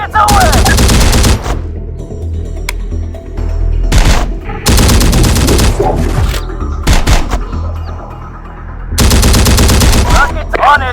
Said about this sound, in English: Rockets are ready! Rockets away!